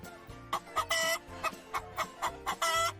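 A hen clucks close by in a series of short rhythmic bursts, about a dozen quick clucks with brief pauses between them and no talk.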